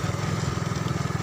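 A motorbike engine chugging steadily during a ride through the town of Shaher Sultan in southern Punjab, a loud, close, throbbing pulse with no break.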